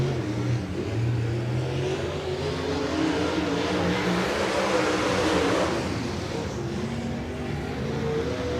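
A late model dirt race car engine roars steadily through a qualifying lap at Highland Speedway, the loud sustained drone rising and falling in pitch with throttle, heard alone without talk.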